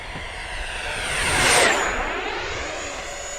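XFLY Sirius 80mm electric ducted-fan RC plane making a fast low pass, its high whine swelling to a peak overhead and falling away with a clear pitch drop, loud and unaccompanied by talk.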